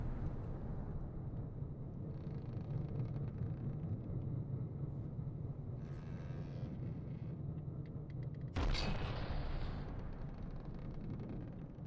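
Artillery shells fire in the naval combat game From the Depths over a steady engine rumble, with a sharp, loud blast near the end followed by a fading roar.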